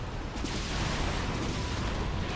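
Continuous rumbling gunfire and explosions from tanks under attack in a StarCraft 2 TvT match, a dense, steady barrage filling the whole stretch with no pauses.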